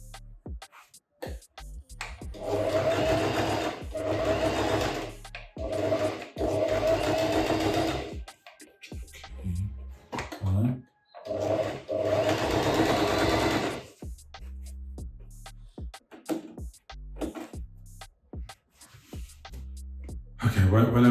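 A sewing machine runs in long bursts of steady, rapid stitching, stopping and starting as fabric is guided by a blindfolded sewer; short pauses between runs carry light handling noises and some talk.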